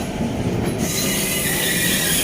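Amritsar-New Delhi Intercity Express rolling along the rails, a steady loud roar of wheels and carriage noise with a high metallic squeal running throughout.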